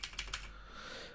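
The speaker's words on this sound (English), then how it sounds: "The regular keyboard from the F256 also works." Quick typing on the F256 computer keyboard, three crisp keystrokes in rapid succession at the start, then a fading hum of room noise, with no voice.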